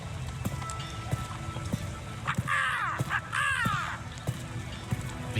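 Crows in the game No Rest for the Wicked caw twice in the middle, loud and near, over steady rhythmic hoof-like clopping.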